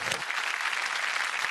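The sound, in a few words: applause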